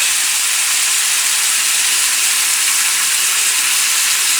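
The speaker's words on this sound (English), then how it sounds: "Put that 3-minute steamed broccoli" Steamed broccoli dropped into hot brown butter in a pan gives a loud, continuous, broad hiss that holds steady throughout with no voices.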